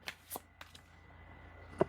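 Tarot cards are shuffled in a few quick, light riffles and taps, close and fairly faint, ending with one sharper snap of cards on a quiet background.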